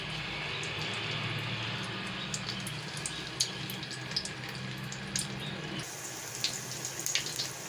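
Commercial-style samosas dropped into hot oil, a steady hissing sizzle with scattered pops and crackles that sharpen after a brief shift in the sound partway through.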